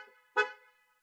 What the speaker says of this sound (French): il y a aussi un alerte de klaxon